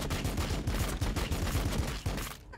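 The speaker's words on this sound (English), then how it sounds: "So many bullets." Massed gunfire from many guns in the Warhammer 40K: Battlesector video game, a dense rolling fusillade of rapid overlapping shots that stays loud throughout, then drops away abruptly at the end.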